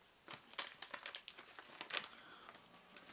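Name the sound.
opening the wax wrapper of a Donruss trading card pack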